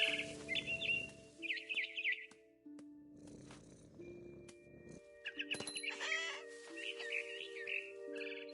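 Frightened bird chirping in the game What Remains of Edith Finch, bright tweeting bursts in several clusters over a sustained musical score, with a soft purr-like rumble early on.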